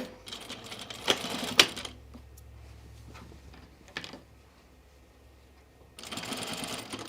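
A sewing machine stitches a Sophie dress in short bursts of rapid mechanical clatter, separated by quieter pauses and a few sharp clicks, with a longer run of stitching near the end.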